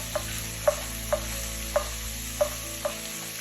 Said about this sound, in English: Mix them and cook them a little bit until they become translucent.